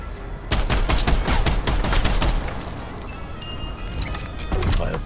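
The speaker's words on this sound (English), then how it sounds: "Now this is a straight-up rifle." Rapid rifle fire in Call of Duty zombies on the Mauer der Toten map, a dense burst of loud, close, evenly spaced shots for several seconds, then a lull and a few more shots.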